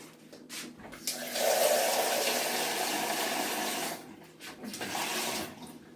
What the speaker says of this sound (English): I'm going to pour that over the potatoes, and that's just about covering them